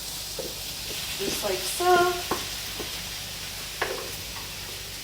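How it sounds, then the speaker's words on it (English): Turkey meat sizzles and is stirred in a pan on top of cooked peppers, a soft steady frying hiss with scraping and clinking of spoons, while a person speaks briefly nearby. "We are now going to add our turkey on top of the peppers."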